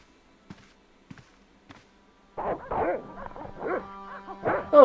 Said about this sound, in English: Oh, he has dogs, actually.